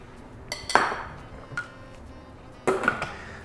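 Cauliflower florets being stirred into a thickened sauce in a pan, giving a few sharp clinks and knocks of utensil against cookware, spaced irregularly over a quiet background.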